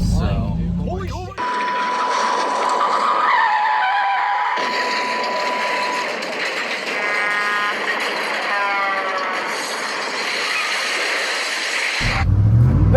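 A car skids and wipes out on a busy city road, a long tire screech and scraping rush heard close and loud, with wind and traffic noise around it.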